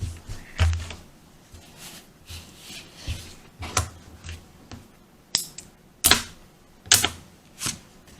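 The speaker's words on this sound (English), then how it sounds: "I'm just going to keep cutting" Scissors cutting fabric for face masks, heard as a run of separate sharp snips and clacks, close and fairly quiet, spaced irregularly with soft rustling in the gaps.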